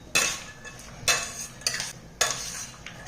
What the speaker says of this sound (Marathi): हे सगळं मिक्स करून घ्यायचं आहे